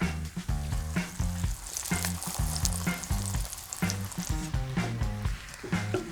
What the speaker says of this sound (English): We're gonna cook it for about 2 minutes per side with just a little bit of oil.